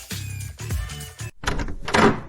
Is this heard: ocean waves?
no